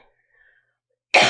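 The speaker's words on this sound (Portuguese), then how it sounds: "E agora, vou tossir." A single sharp cough bursts out near the end after a near-silent stretch, loud and close, with a faint breathy trace before it.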